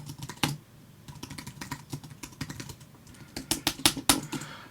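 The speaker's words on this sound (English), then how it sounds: "Sorry for bashing on that keyboard." Fast, hard bashing on a computer keyboard: dense clusters of sharp key clacks close to the microphone, building to louder strikes near the end.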